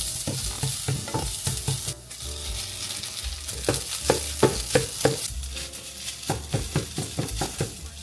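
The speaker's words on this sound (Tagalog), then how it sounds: "Luto ako ng garlic rice." Garlic rice stir-fried in a pan: steady sizzling under a quick rhythm of scraping, tossing strokes from a utensil, with occasional clinks of metal on the pan. No talking.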